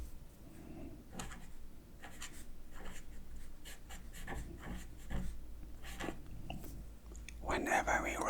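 A pen scratches steadily across paper in short strokes and pauses, close up and quiet in a soft-spoken ASMR setting, with a louder rustle near the end.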